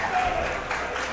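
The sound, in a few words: Texas tournament crowd cheering a victory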